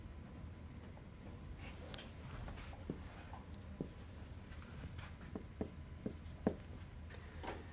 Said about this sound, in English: And let's draw a little picture here.